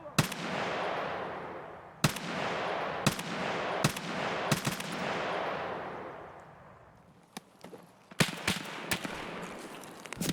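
Bursts of gunfire while fighting scavs in the video game Escape From Tarkov: sharp, loud single shots and short volleys spread across the stretch, with a pause before a denser cluster of rapid shots.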